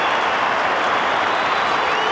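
Football crowd at an Essendon versus St Kilda match roaring after a goal, a loud, dense, unbroken wall of cheering and applause lasting the whole couple of seconds.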